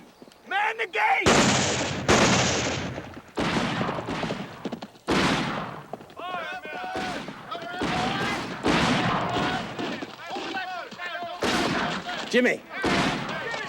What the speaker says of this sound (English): Looks like they're shooting at each other